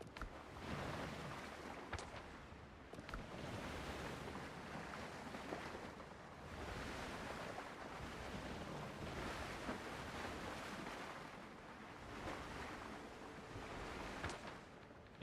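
Ocean waves wash steadily around a sailing ship in the video game Windrose, with a constant broadband surge of surf and wind that swells and eases in slow waves, with no voices.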